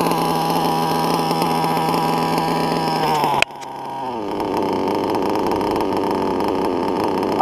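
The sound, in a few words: LRP nitro RC engine idling very low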